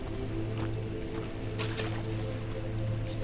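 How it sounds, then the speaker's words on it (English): Character splashing and wading through water in the horror game Amnesia: The Dark Descent, soft sloshing and dripping bursts over a steady low ambient drone. "You're playing in the water."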